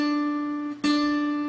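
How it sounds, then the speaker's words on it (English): A guitar's second string fretted at the third fret rings as one clear sustained note, briefly interrupted and re-struck, close and alone. "So we're going to play the second string."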